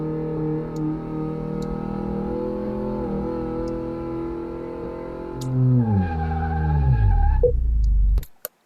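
A car in Car Mechanic Simulator 2018 brakes hard and skids, a loud steady engine drone whose pitch sweeps down as tires squeal, ending abruptly with a sharp click and silence.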